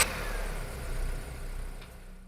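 A car engine idles and then pulls away, a low mid-pitched hum that swells briefly and settles into a steady drone before fading at the end.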